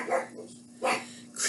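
Two sharp barks from an indoor dog, evenly spaced and fairly close, with the start of a third at the end, all over a constant low electrical hum.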